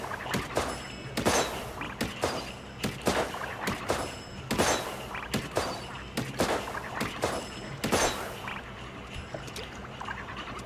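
Splatoon blaster weapon firing ink shots that burst in midair, a string of sharp, evenly spaced pops and splashy bursts about every half second, close and fairly loud.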